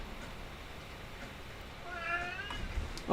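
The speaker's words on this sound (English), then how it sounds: "My cat can say hello." A pet cat named Shadow gives a short, wavering meow late in the moment, fairly faint against low room noise, followed by a louder thump at the end.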